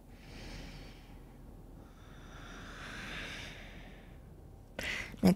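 Deep, slow yoga-class breathing: long, airy inhales and exhales drawn close to the microphone, soft and steady, with a brief clatter right at the end.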